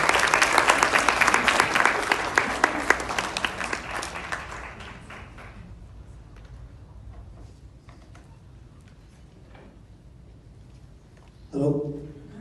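An audience applauds to welcome an honoree to the stage at an awards event, loud dense clapping that fades gradually over several seconds, followed by a brief voice at the end.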